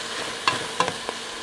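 Ground turkey browns in oil in a pot with a steady close sizzle, broken by two or three quick stirring scrapes.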